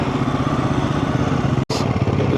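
A Royal Enfield Himalayan 450 motorcycle engine heard while riding, a close, loud, steady throbbing drone with one brief cut near the end before it resumes.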